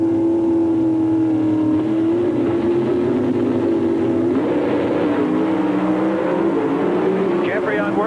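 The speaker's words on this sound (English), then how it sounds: "They'll bring the motors up high and drop the clutch." Dodge Pro Stock drag cars at the 1993 NHRA Mid-South Nationals hold their engines at a high, droning rev that rises and falls under steady announcer talk.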